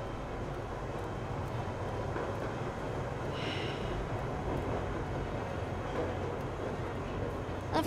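A train in the video game Secret World Legends rolls along as a steady, low rumble that stays constant and fairly faint throughout, with no voices over it.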